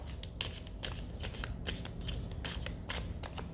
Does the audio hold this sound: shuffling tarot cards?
yes